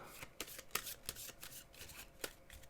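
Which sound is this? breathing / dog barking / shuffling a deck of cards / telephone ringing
shuffling a deck of cards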